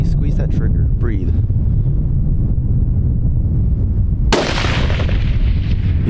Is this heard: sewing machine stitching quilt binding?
no